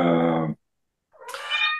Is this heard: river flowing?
no